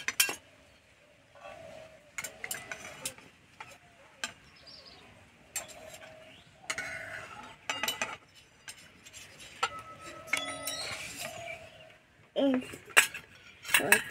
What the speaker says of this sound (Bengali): আমি প্লেটে তুলে নেব।